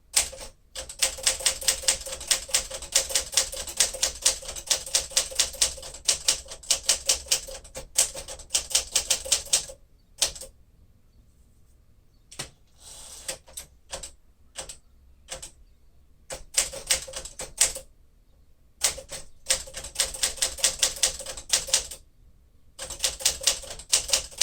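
Typing on a 1954 Smith-Corona Sterling manual typewriter: rapid bursts of crisp keystrikes with bell dings and carriage returns, broken by several short pauses, close and loud.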